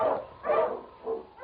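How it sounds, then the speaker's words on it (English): An Eskimo sled dog, a lead dog in a Yukon radio drama, gives three short barks spaced about half a second apart, heard moderately close with a thin, narrow-band broadcast tone. "The Wonder Dog King, swiftest and strongest of Eskimo lead dogs, blazes the trail through storm and snow for Sergeant Preston"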